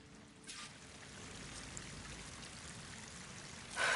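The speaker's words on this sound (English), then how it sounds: "That waterfall must be coming from somewhere." Waterfall in the video game Horizon Forbidden West, a steady rushing roar of falling water that holds at an even level throughout and swells slightly at the end.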